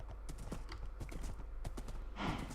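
Horse hooves clip-clop in Minecraft, a quick run of blocky, even steps close up that carries on throughout, with a louder, brighter burst near the end.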